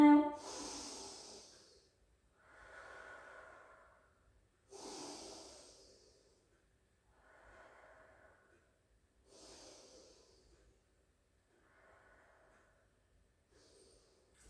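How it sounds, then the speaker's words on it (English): Slow, deep breaths during a cardio exercise class, several audible inhales and exhales alternating in a steady rhythm, close up with hissy rushes of air and quiet gaps between them, alone without talk. "4 breaths in and out"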